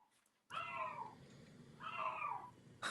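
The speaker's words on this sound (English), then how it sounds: "Damn that cat." A cat shut in a bathroom lets out two drawn-out, loud meows, one after the other, close by with no talk.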